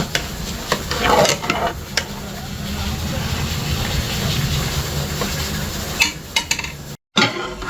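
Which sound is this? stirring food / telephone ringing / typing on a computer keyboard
stirring food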